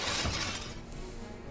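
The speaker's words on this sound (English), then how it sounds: "The sound of shattering glass is drowned out by the cheers rising from the crowd." Window glass shatters under a thrown rock, a sudden bright crash spilling into a dense, noisy wash of tinkling fragments, loud and close.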